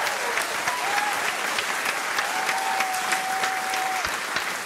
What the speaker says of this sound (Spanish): Vamos a darle un aplauso para Juni la voz.